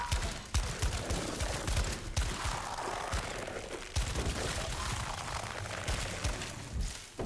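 Rapid gunfire in the video game Daymare: 1994 Sandcastle, loud repeated bursts of shots with sharp cracks in quick succession, continuing through the whole passage with no pauses between volleys.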